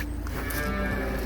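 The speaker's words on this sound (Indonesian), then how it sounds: "Kita sekarang menuju ke tempat sapi." Cattle at a farm in the Netherlands, a low continuous murmur of livestock with faint lowing against a steady barn background.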